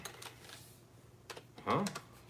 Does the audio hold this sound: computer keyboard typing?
yes